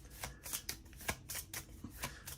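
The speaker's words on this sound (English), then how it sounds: "Shuffle these up." Playing cards for a Marvel Legendary board game are shuffled close by in a rapid series of crisp riffling bursts and soft slaps, with no talking.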